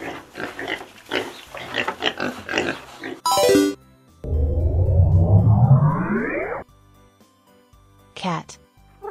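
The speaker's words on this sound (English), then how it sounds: "Pig." Several rapid pig grunts and oinks up close, followed by a sharp whoosh and a long rising electronic sweep.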